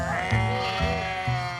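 Ewes bleat repeatedly in a sheepfold in the hills of Isère, a chorus of overlapping wavering calls rising and falling over a steady barn background, close and fairly loud.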